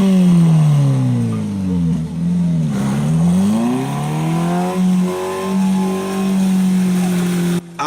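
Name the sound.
car engine revving while people push it out of a rut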